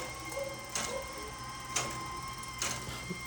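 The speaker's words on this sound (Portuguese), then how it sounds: "um relógio antigo, né, que ainda funciona. Você pode escutar o tic-tac dele." Antique clock in Venice, still working, ticking with sharp, fairly loud ticks roughly every second over a low ambient hum.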